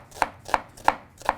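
A knife chops an onion on a board in four crisp, evenly spaced strokes about a third of a second apart, close and clear with no talking.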